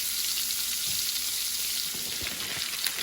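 Bacon cheeseburger patties frying in a pan give a steady, close, bright sizzle with faint crackles and pops throughout, no talking.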